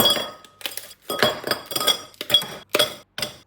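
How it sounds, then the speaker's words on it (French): Ice cubes dropped one after another into a drinking glass, giving about seven bright, close clinks with short pauses between them. "je mets juste des glaçons dans mon verre"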